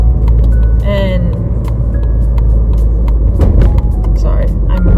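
Car driving in traffic while merging, a steady low road rumble and engine drone running throughout, with a person talking over it inside the cabin.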